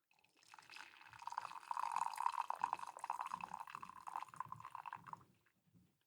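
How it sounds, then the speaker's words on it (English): Tea pours into a mug in one steady, close stream lasting several seconds, bubbling and rising in pitch as it fills, then tapering off to a few faint drips. "I feel like that was the best pour."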